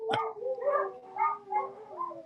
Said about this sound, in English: Oh, one's howling. That would be your husky.